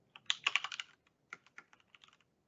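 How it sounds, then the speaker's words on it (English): Keys clatter on a computer keyboard as a short name is typed, a quick burst of close clicks followed by a few sparser keystrokes, with no talking. "I'll first type in my site name"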